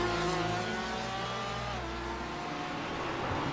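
A GT race car engine from the iRacing sim drones loudly on a lap of Sebring International Raceway, pitch sliding down as it brakes and shifts, steady and close with no talking.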